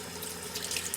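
Tap water runs steadily while a shaving brush is rinsed, a close, continuous splashing stream with no voices.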